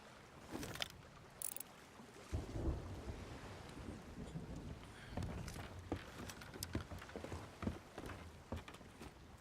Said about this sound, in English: we got a storm coming